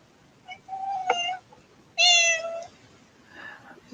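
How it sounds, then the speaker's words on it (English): A cat in the Battle Pirates video game gives three meows: a short one, then a drawn-out mew, then a louder, brighter cry, with a faint fourth trailing sound, close and clear with no talk. "we have a cat entering the battlefield"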